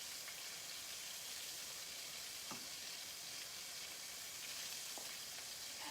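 Gluten-free chicken nuggets fry in a pan with a soft, steady sizzle, broken by a couple of tiny pops. The sound is quiet and close, with no voices.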